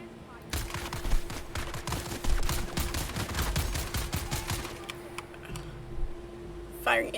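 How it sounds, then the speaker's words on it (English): Rapid bursts of gunfire from the video game Dune Awakening, dense overlapping shots crackling steadily for several seconds over a low droning hum, easing off near the end. "Firing indiscriminately."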